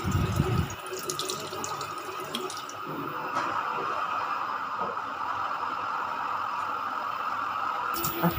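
Tap water runs steadily into a sink during toothbrushing, a constant splashing flow with faint scrubbing and small clatters, starting after a brief louder rustle and ending with a knock.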